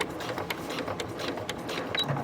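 A sewing machine stitches cork for a Sophie Bag, running in short bursts with a rapid mechanical chatter that keeps stopping and starting as the work is turned between stitches. The sound is close and moderately loud.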